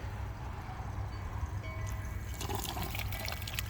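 A hole in a garden drip watering line sprays a small fountain, making a steady, fizzing water hiss over a low rumble, with splashy bursts growing denser toward the end.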